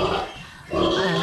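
A pregnant sow grunts while being injected in the neck, giving a loud, close, rough grunt, a brief pause, then another sustained low grunting squeal, with no speech.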